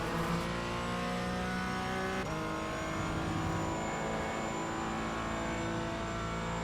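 A Porsche race car engine in a racing video game holds a loud, continuous high-revving drone, with a pitch drop around two seconds that suggests a gear shift, and no talking.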